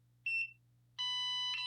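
A NIRA at-home anti-aging skincare device at level 1 sounds its warning when not held down on the skin: a short electronic chirp, a brief pause, then a longer sustained bright beep, close and clear with no talking.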